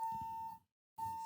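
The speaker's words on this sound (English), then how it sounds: "If you guys have set off the alarm." An alarm emitting a steady high electronic beep, two sustained tones separated by a short silence, moderately faint with low background rumble and no talk.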